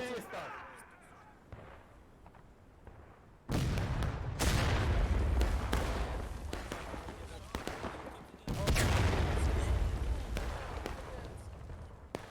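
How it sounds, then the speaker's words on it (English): Heavy artillery fire in the War of Rights video game during a large multiplayer battle at Dunker Church, with two deep booming blasts over continuous crackling musket fire and distant shouting voices. "Pretty heavy Arty shots coming in there."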